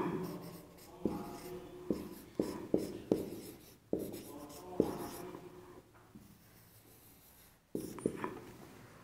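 Pen or chalk writing out a definition during a Sanskrit sandhi lesson, a run of scratchy strokes and taps with short pauses between them, fairly close and moderately loud, with no talking.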